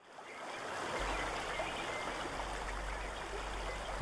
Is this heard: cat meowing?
no